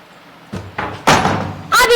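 A house door in a rural home is pushed shut with a few solid thuds and a heavy slam, broadband and close, while voices talk and call out around it.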